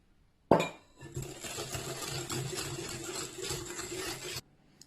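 A glass of milk poured into clementine muffin batter in a bowl: a bright clink of glass, then a steady close liquid pour lasting about three seconds that stops abruptly.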